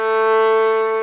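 A single sustained violin note bowed with the first finger on the G string, steady and bright with rich overtones, held alone for about a second before stopping.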